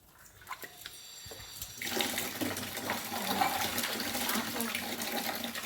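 Tap water running steadily into a sink while fish are washed, starting after a brief quiet moment and then a continuous close, splashing gush with small clatters.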